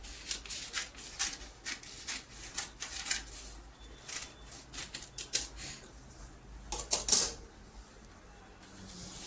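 Scissors cutting paper into a katori bowl-shaped pattern piece for a size-42 design, a quiet series of short crisp snips and rustles in uneven bursts, with no talking.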